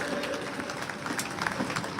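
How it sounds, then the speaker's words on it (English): A crowd at an outdoor farming rally in London claps and cheers for Ed Davey, a dense patter of applause with scattered shouts that holds steady for a couple of seconds. "So please, a loud cheer for Ed Davey."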